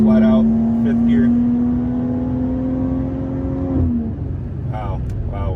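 A BMW G30 540i with a 530 hp engine pulls flat out in 5th gear, a steady droning tone climbing slowly for about four seconds before a brief dip. Cabin noise stays loud throughout, with a voice talking over it near the end.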